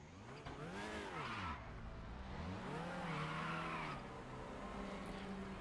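A TCR touring car fires up in the RaceRoom sim-racing game, its engine swelling through two long rising and falling revs that hold loud and close over a steady idle drone.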